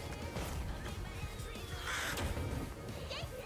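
A crow caws in a fight animation, harsh calls set against a steady wash of music and effects, moderately loud but partly buried in the mix.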